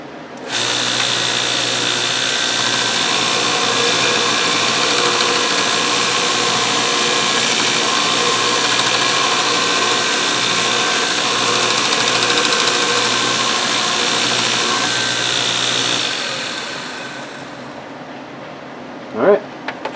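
A belt grinder shapes a wooden mallet head cut from a 4x4, a loud steady abrasive whine with a low hum that runs unbroken for most of the stretch, then spins down and stops, followed by a couple of faint knocks.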